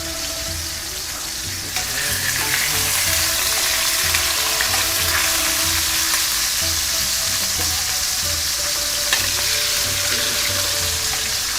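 Thin pork strips seasoned with salt, pepper and smoked paprika sear in a hot pan, giving a loud, dense, unbroken sizzle that jumps up sharply just after the start and holds steady throughout, with no talking.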